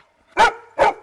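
A Lab and Golden Retriever mix gives two short, sharp barks on command, close and loud, with a brief silence between them.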